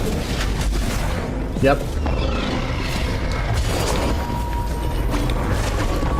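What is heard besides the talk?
explosion from blowing up an enemy in a video game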